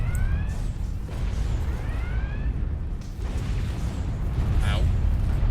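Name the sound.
weapon firing in Star Trek Online video game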